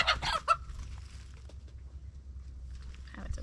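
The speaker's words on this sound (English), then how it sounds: "Having some chicken problems, aren't we, Safi?" Backyard garden chickens cluck and squawk in a few loud, close bursts at the start, then mutter softly and intermittently over low background rumble.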